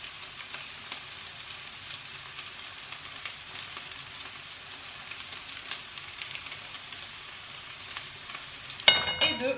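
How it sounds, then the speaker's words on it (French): Garlic and curry powder frying in a pan over medium heat, a steady close sizzle and crackle running throughout, with a louder clatter of stirring near the end. "On fait revenir 2 minutes à feu moyen."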